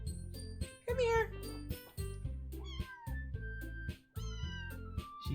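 A cat in a visual-novel horror game meows repeatedly in short, bright, rising cries over a looping plucked music track, with a soft chime.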